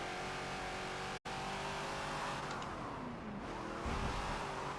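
A Ford Falcon XB race car roars at full throttle around Homestead Road Circuit in a Forza racing game, a loud, steady engine drone with a brief cut near the start and shifting pitch as it accelerates, with no talk.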